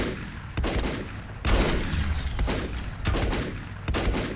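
Gunfire in the video game Volcanoids: loud, dense bursts of shots and booms while fighting through enemies, with several sharp onsets and continuous rattling volleys throughout.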